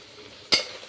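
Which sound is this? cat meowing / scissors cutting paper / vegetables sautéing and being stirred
vegetables sautéing and being stirred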